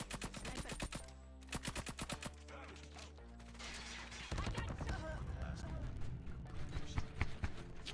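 A nail gun firing in the mobile shooter game Call of Duty: Mobile, loud rapid bursts of repeated sharp shots over game music and effects.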